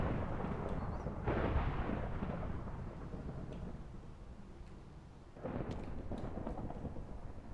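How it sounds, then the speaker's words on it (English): Thunder from a lightning storm in the video game Minecraft, with the nuclear tech mod: low rumbling rolls that swell, fade and return, fairly faint and without speech. "Man, this is a lightning storm right here."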